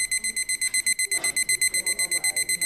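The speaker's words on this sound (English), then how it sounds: "This is a teacher timer." A loud teacher timer alarm beeps in rapid, evenly pulsed bursts, high-pitched and insistent, with voices talking briefly underneath.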